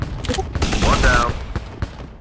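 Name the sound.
gunfire in video game Shadow Strike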